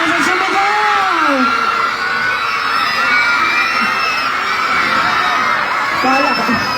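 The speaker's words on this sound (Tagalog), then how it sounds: "Palakasan sumigaw! Ang isang pila, palakasan sumigaw!" A crowd of people yells and whoops as loudly as they can in a shouting contest at a local game event in Tagkawayan, Quezon, a loud continuous roar of mixed voices with a few higher cheers rising above it.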